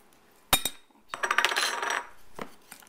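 Butter and brown sugar for a cake topping are mixed in a bowl, with sharp clinks of a utensil against it, then a burst of rapid scraping strokes and a final tap.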